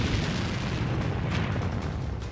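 A Lancet drone strikes a tank in wartime footage, producing a continuous heavy blast roar with dense low rumble and crackling bursts throughout, loud and close.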